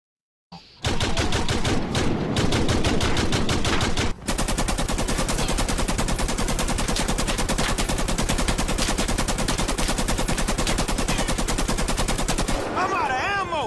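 Sustained automatic AR rifle fire in GTA 5, a loud, dense burst of rapid shots hammering almost without pause for over ten seconds, with a brief break partway through before the barrage resumes.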